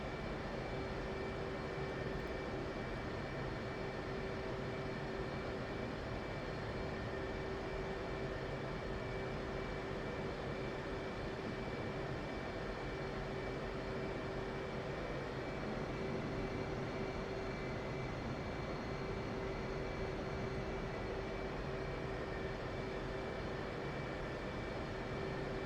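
A steady, droning jet engine hum with a constant tonal whine from an F/A-18C Hornet taxiing toward a hangar in the DCS flight simulator, continuous and even throughout.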